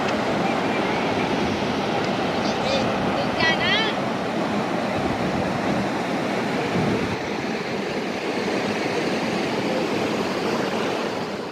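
The Sahasradhara waterfall, where many streams split from one river, gives a loud, continuous rushing roar of water close by, with the steady wash of the falls filling the whole scene.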